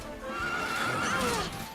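A horse in the role-playing game Dragon Quest XI gives a long, loud whinny that wavers up and down for nearly two seconds, close and clear over a busy game soundscape.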